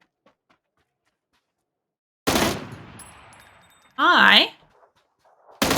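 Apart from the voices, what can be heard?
gunfire in burst mode from a video game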